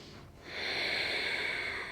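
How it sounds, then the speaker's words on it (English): A single long, steady breath drawn in during a yoga flow, starting about half a second in and holding for over a second. It comes through as a soft, close airy hiss with no talking. "Breathe in"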